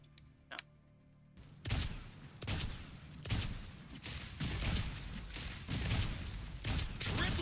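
Rockets fired repeatedly in the game Paragon: Overprime, a series of loud, sharp whooshing blasts spaced roughly every half second to second, close and heavy, after a quieter opening.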